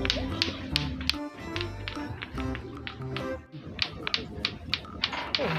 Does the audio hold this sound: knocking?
yes